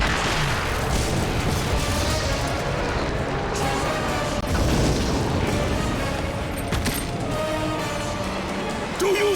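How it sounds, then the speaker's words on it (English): A statue is smashed in God of War 2, heavy crashing booms and rumbling debris layered with game effects across the whole stretch, partly under a speaking voice. "After solving a small puzzle, you will destroy the statue."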